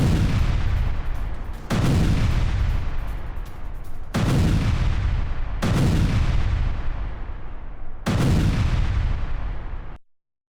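Drone strike on Russian positions in Soledar: five heavy blasts of explosions and gunfire, each a loud booming burst that rolls into a long decaying rumble, arriving roughly every two seconds with no voices.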